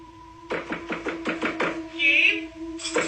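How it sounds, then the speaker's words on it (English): Repeated knocking on a door, about half a dozen firm raps in an uneven rhythm, near and fairly loud over a steady low hum, with a brief high tone partway through and a final knock at the end. "somebody started knocking on his door saying it was his mother."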